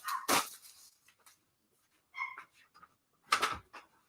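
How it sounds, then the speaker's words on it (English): A pet dog barking indoors in a home, a few sharp separate yelps and barks with quiet gaps between them, loud and close, with no talking. "My dog is going crazy."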